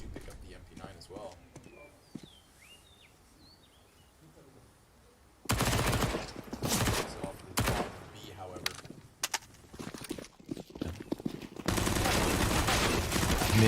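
Bursts of rapid SMG fire and single pistol shots ring out during a Counter-Strike match on the Inferno map, dense and loud after a quieter stretch, with a commentator talking over the action.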